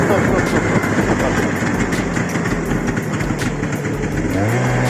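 A motor runs at a steady, loud, continuous drone with a slight rise toward the end, while people talk over it.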